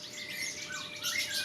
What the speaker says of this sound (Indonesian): Ini burung udah gacor banget yang ini nih